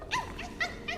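Short yipping barks from a small puppy in a video game, three or four quick sharp calls spaced across a second, fairly close and clear against a low background hum.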